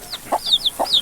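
A mother hen clucks low among her chicks, two soft clucks under a run of high, close peeping from the babies over about a second.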